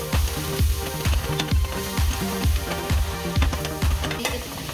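Onions fry with bacon in a pan, a steady loud sizzle broken by regular rhythmic stirring scrapes, close up and without speech.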